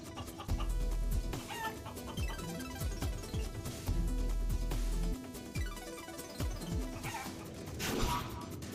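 Chicken clucks and squawks from the video game Guacamelee 2, a busy run of short calls set against steady game music and effects, with a louder burst near the end.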